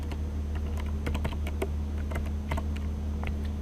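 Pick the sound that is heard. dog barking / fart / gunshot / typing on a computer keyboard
typing on a computer keyboard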